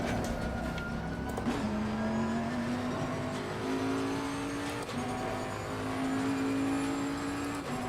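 Race cars lapping Oulton Park in Assetto Corsa Competizione: a steady, loud engine drone that climbs and shifts in pitch through gears, with other cars close by throughout and no talk.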